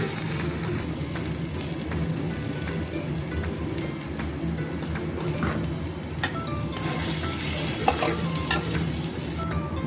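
Spice masala with salt, cooked down for rajma, sizzles steadily in oil in a pan as a spoon stirs and scrapes through it, with the clattering growing busier toward the end.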